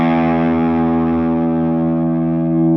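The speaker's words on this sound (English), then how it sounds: "I would use the bridge pickup for this, quite a lot of distortion, and let the notes just ring out as long as you can." A distorted electric guitar on its bridge pickup lets an open low E string ring out, one sustained, loud, buzzy note holding steady alone.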